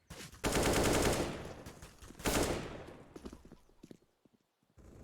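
Gunfire in a competitive esports match of a tactical shooter: two loud, sustained bursts of rapid automatic fire, then scattered single shots that fade into near silence before a low noise returns.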